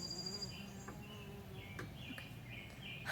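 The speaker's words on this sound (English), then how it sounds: "Oh no, there's a bee." A bee buzzes faintly outdoors, a thin, wavering insect drone over quiet background ambience, with a few brief chirp-like tones drifting in and out.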